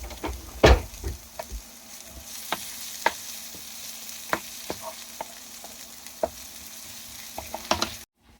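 Garlic and parsley fry in oil with a steady close sizzle, punctuated by scattered taps and clinks of a utensil against the pan.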